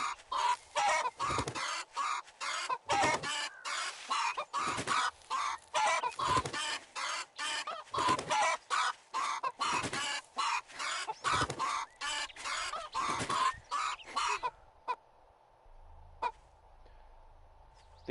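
Repeated loud clucks and squawks from a chicken in the survival game 7 Days to Die, coming in quick rhythmic bursts for about fourteen seconds before cutting to near silence, with a faint single cluck afterward.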